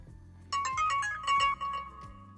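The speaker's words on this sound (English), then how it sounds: "I actually just got an alert here on my phone from the Meter Plus indicating that my chuck steak has reached its finishing temperature" Smartphone alert from a Meater Plus meat thermometer app signaling a chuck steak at finishing temperature: a bright melodic ringtone chiming a few rising notes over a low steady hum, fairly clear and up close.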